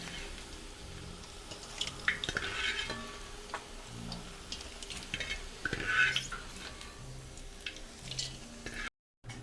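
Cauliflower pieces fry in hot oil for gopi manchurian, a steady faint sizzle with occasional scraping stirs and ticks of a spatula against the pan, no voices.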